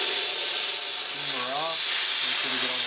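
A steamer sprays a loud, continuous hiss while cleaning watches, with brief voices speaking under it.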